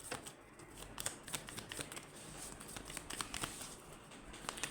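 Tarot cards being shuffled and drawn by hand, a quick run of papery riffles and flicks in uneven bursts, close but quiet, with no voices.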